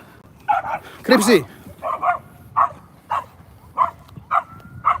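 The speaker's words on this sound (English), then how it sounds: "And my dog is barking at nothing as usual" A pet dog barking in short, evenly spaced yaps, one louder yelping burst early, close by, with a person speaking briefly.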